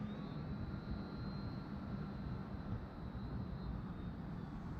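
A Bushwacker airplane approaches to land, its engine a steady, continuous drone holding at an even level throughout with a faint high tone running above it.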